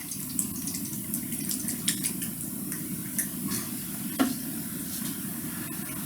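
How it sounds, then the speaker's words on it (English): A brush swirling and dabbing shellac colors in a cup, a soft continuous wet stir with a few light taps against the rim, close and quiet. "I'm going to dip both colors in here and mix them on the edge of my cup"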